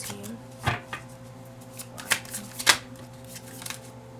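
Tarot cards shuffled and drawn during a reading: several crisp riffling bursts and soft slaps of cardstock, sparse and close, with quiet gaps between.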